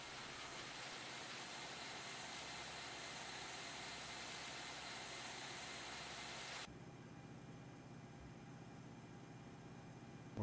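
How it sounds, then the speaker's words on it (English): Airliner jet engines roaring in reverse thrust during a pushback in a flight simulator, a steady loud broadband rush that drops abruptly to a quieter idle hum partway through, with no talking. "We'll full on reverse thrust power back this baby"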